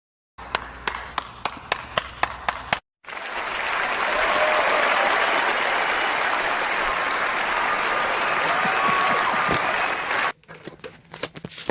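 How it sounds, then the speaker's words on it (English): Sustained crowd applause fills most of the span, loud and dense, set between a few scattered individual claps at the start and end. "Make the white people clap for me."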